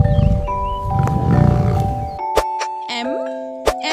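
A lion roars in low, rumbling bursts over the first two seconds, set against a bright children's song with chiming, bell-like notes that carry on alone after the roar stops.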